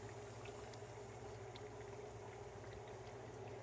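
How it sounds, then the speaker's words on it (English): Sauce boiling and reducing in a pan, a faint, steady bubbling and simmering hiss that continues evenly throughout with no voices. "we're gonna let the sauce boil for about 5 to 10 minutes until it becomes thick"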